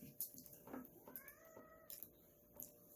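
A cat gives several soft, drawn-out meows, fairly faint against a quiet indoor background, with short pauses between the calls.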